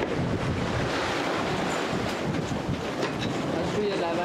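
Sea waves wash and rush continuously around a sailboat, a loud, steady roar mixed with wind buffeting the microphone.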